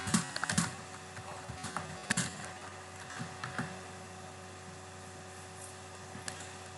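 Computer keyboard keys clack in an uneven burst of taps, denser at first and then thinning out, close and moderately loud over a steady electrical hum.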